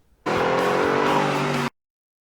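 A sports car engine roars past loudly for about a second and a half, a steady close whine that starts and stops abruptly.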